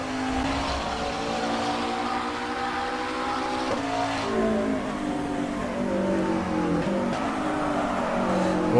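A race car laps Bathurst in rFactor 2, its engine climbing through the gears with rising revving tones and brief dips at each shift, loud and close.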